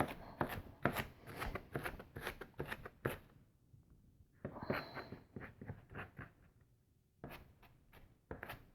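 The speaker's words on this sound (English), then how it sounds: "Give them a pretty decent chop." Knife chopping a sweet onion on a board: a quick run of crisp, close cuts, a short pause, then another flurry of chops, fairly soft overall.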